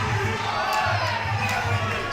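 A crowd at a Muay Thai fight roars steadily on its feet, a dense continuous wash of cheering and shouting with scattered louder whoops.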